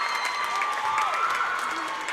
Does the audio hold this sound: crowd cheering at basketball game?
yes